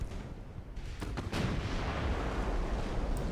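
Heavy naval guns boom in a simulated battle, 12.9-inch battleship guns firing in Ultimate Admiral: Dreadnoughts, with a few muffled distant blasts early on, then a louder broad rumbling salvo that rolls on steadily to the end.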